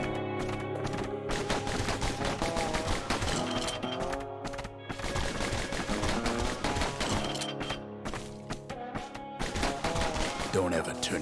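Rapid gunfire in the video game Bastion, dense bursts of shots layered over loud, busy game music, nearly continuous with brief pauses.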